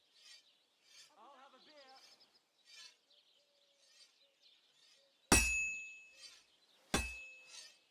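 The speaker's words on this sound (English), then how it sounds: "Now take the hammer and try hitting it a few times." Two sharp metallic clangs ring out as a hammer strikes a sword on an anvil in Kingdom Come: Deliverance, each blow leaving a ringing tone, with birdsong chirping faintly throughout.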